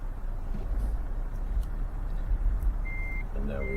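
In Euro Truck Simulator 2, a truck hauling 7 tonnes of marble slabs reverses, its engine rumbling low and steady while a faint reversing beep sounds near the end.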